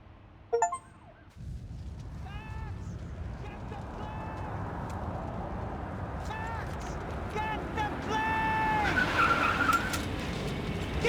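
Car driving and skidding in the video game Max Payne 3, with a sharp burst near the start followed by a steady engine roar and repeated tire squeals, under continuous shouted talk and game action.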